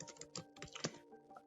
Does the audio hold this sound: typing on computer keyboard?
yes